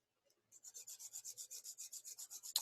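Compass pencil lead rubbed flat into a chisel edge against an abrasive surface, a quick, even series of about fifteen short rasping strokes, close and quiet, ending in a slightly louder scrape.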